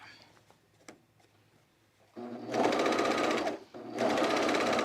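A sewing machine runs a basting stitch on a coat in two loud bursts of rapid, buzzing stitching separated by a short pause, after a few soft clicks and taps.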